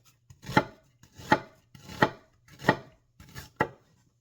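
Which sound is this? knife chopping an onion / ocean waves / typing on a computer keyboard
knife chopping an onion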